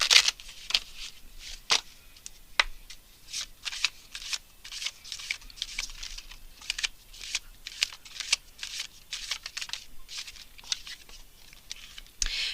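Romance Angels oracle cards being shuffled by hand, a close, crisp run of repeated riffling flicks and soft slaps in an irregular rhythm, with no talking.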